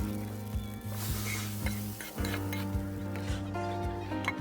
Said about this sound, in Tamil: இப்போ இந்த பப்பில் வந்து நம்ம தாளிப்பு ஊற்றிடலாம்.